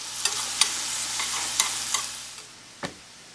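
Half a chopped onion frying in melted butter in a pan, a soft steady sizzle broken by several sharp stirring clicks and scrapes, with no voices.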